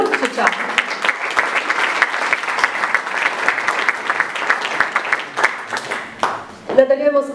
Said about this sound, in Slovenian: Zaploskajmo tudi skupini Peleti Booking